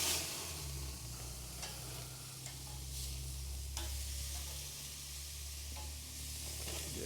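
Pineapple slices sizzle steadily on a hot grill, a close, continuous crackling hiss with a few faint ticks, and no voices.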